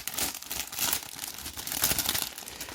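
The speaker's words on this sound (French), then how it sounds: "j'essaie d'en ouvrir une pour vous montrer" A sealed Pokémon card pack from the Pokémon Center Shibuya in Tokyo is torn open close by. Its foil wrapper crinkles and crackles in continuous bursts, with no talking.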